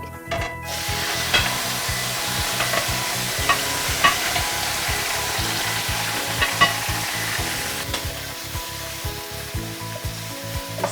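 Chicken seasoned with cumin powder sizzles steadily in a hot pan, a continuous frying hiss broken by regular scrapes and knocks of a spoon stirring, close and fairly loud with no talking.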